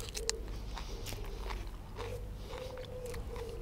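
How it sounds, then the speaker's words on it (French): Close, crisp crunching of fresh garden peas being chewed, repeated bites and munches over a low background hum, continuous for a few seconds. "C'est croquant, ça a le goût de petits pois comme c'est pas permis."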